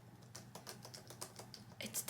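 Crisp, fairly quiet clicks of typing on a 2020 13-inch MacBook Pro keyboard, keys struck in a steady irregular patter with a brief busier burst near the end.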